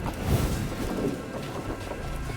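Rain pours steadily under a thunderstorm in the card game Thronebreaker: The Witcher Tales, a loud, dense hiss with low rumbling thunder rolling beneath it from start to finish.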